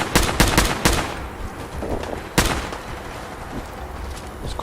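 Shotgun blasts in the video game Fallout 4: several sharp, loud reports in quick succession at the start, then one more heavy shot a moment later, with game ambience between.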